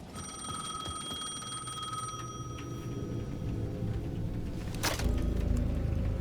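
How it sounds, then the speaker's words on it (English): A payphone in Alan Wake 2 rings steadily with a high electronic trill over a low hum, fading after a couple of seconds as background noise builds. "The payphone at the edge of the plaza was ringing again."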